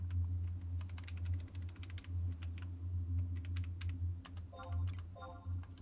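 Rapid, irregular clicks of typing on a Royal Kludge computer keyboard run close and clear throughout, over a steady low hum of background game audio.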